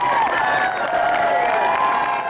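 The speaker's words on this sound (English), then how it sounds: "There were people outside just screaming because they were pulling up." A crowd outside screams and cheers as a vehicle pulls up at a newly finished house, a loud, steady roar of many voices with whistles and shouts blending together.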